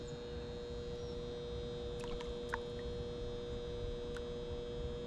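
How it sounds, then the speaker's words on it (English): A steady electrical hum from an outdoor electric box drones faintly and continuously beside a fishing spot, with a few faint distant chirps and clicks over it. "What's that sound? Yeah, it's the electric box."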